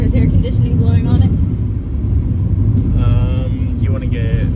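A car's interior rumble fills the cabin on a drive to Hollywood, with air conditioning blowing, a loud steady low road drone, and voices talking over it at several points.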